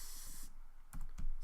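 Computer keyboard keys tapped while a terminal command is typed, a few quick close clicks in a short burst over a faint hiss.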